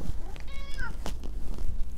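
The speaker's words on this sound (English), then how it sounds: "Got an appearance from Star here, the cat." A house cat named Star gives one clear, close meow with a bending, rising-falling pitch, followed by faint rustling and small handling noises.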